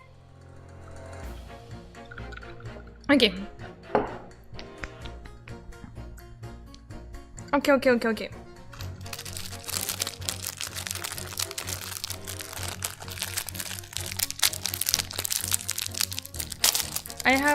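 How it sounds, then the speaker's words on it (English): Ice cubes dropped into water, producing a few sharp cracking, crackling bursts with quiet stretches between them. A voice speaks briefly, and a louder, steady background of game sound and music comes in partway through. "I'll drop some ice cube again."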